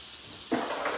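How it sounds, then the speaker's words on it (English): Fresh turmeric and ginger hit hot oil in a new wok, giving a sudden close burst of crackling sizzle that rises over a steady background hiss and keeps going. "Listen to that crackle."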